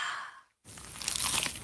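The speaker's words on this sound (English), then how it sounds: "Is that the sound of an ooey gooey cheesy crunchy slice of P-I-Z-Z-A?" A cheesy pizza slice is bitten with a crisp, crackly crunch right after a short silence, close and loud, following a brief breathy sound.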